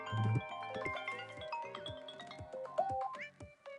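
A melodic ringtone plays from a telephone on an outgoing call, a clear musical phrase of repeated tones with a low bass pulse, steady and close for a few seconds with no talking.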